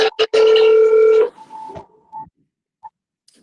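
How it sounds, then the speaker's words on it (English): A telephone rings in the background, a short steady electronic tone burst followed by fainter intermittent chirps, then near silence. "there was some background, like a phone ringing"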